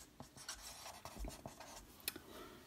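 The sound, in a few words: writing on paper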